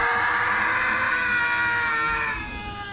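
A sustained, strained scream rings out in a Halo Reach zombie machinima, loud and steady for about two seconds before fading slightly, with low rumbling game ambience beneath and no talk.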